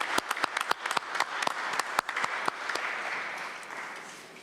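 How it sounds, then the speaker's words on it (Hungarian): An audience breaks into applause at a formal parliamentary meeting, a burst of loud, distinct claps that thickens into a steady roar of clapping and then slowly fades. "Then let's give them a round of applause."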